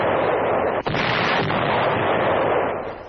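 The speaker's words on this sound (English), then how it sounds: "From Strasbourg, Nazi positions across the Rhine are shelled." Artillery shells Nazi positions across the Rhine from Strasbourg during the Second World War, heard as a dense, roaring wash of distant gunfire with one sharp crack early on, fading slightly toward the end.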